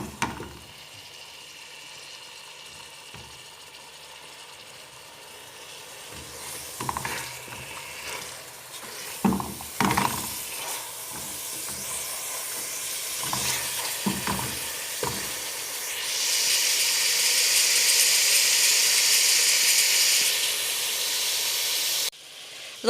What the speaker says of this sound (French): je vais mijoter un petit peu quelques minutes